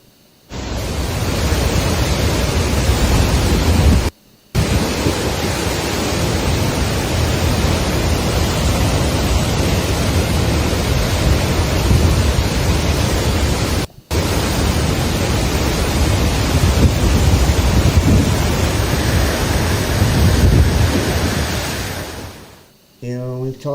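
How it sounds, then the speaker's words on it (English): Torrents of floodwater surge through a New South Wales town, a loud, dense and continuous roar of rushing water broken by two brief silent cuts. "This is a wall of water bringing devastation in New South Wales town"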